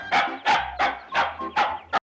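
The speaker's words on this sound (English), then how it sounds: "Bandit is an essential Quest family member as their adored pet dog" Bandit, a pug and bulldog mix, barks six times in a quick, evenly spaced series, loud and close, with no other sound.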